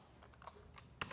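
Computer keyboard with several unresponsive keys being typed on, a handful of quiet, close clicks in an irregular rhythm, ending with one sharper keystroke.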